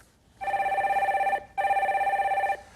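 A phone rings twice in long trilling bursts separated by a brief pause, clear and near with no talk, as the next caller is connected on a live call-in stock show.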